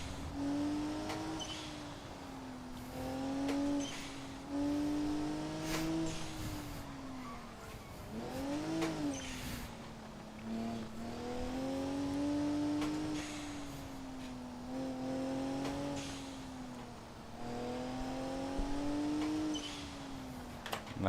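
A car engine revs hard along a winding mountain touge road, its pitch rising and falling through corners with some tire squeal, near and steady and without any voices.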